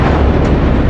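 A tyre bursts on a burning caravan at night, a loud, full-bodied blast that rolls on as a continuous roar of flame rather than a sharp single crack.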